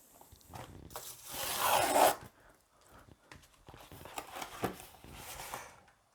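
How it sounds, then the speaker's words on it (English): A yellow DHL plastic satchel being torn and unzipped open, with crinkly rasping plastic bursts and rubbing handling noise, close and fairly quiet, no talking. "The Wirex card has arrived in a yellow DHL satchel, so let's get this opened up."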